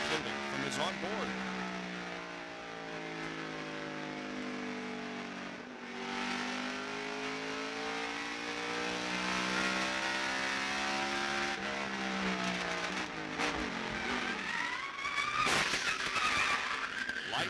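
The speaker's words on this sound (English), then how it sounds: "You hear that tire blow just before he got in the wall?" NASCAR race car at the 1998 Pontiac Excitement 400 suffers a tire blowout and slams into the wall: a sustained engine roar with sweeping pitch, tire skidding and sharp impact bursts near the end, under a commentator's talk.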